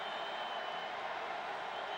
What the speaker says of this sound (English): Crowd getting into it. Martin Stadium.